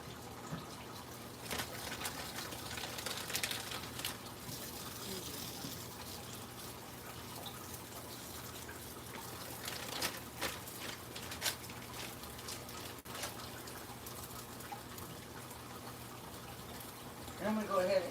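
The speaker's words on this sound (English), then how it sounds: "I'm going to go ahead and rinse this little baggie out that had that meat in it" Tap water runs steadily at moderate distance while a plastic bag that held sausage meat is rinsed out in a home kitchen during breakfast prep, with a person talking over the flow.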